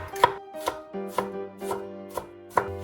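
A kitchen knife chops onion into small dice on a board, making six crisp, evenly spaced taps that are close but fairly soft, with no one speaking.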